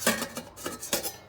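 A lid clatters down onto a metal pan, or dandang, of cut bananas, giving a few close, sharp metallic knocks and scrapes spread unevenly over a moment, with no voices.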